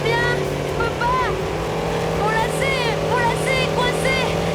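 A motor racing too fast in a Power Rangers Turbo scene, a loud, steady, roaring drone that holds for the whole stretch beneath raised, overlapping voices.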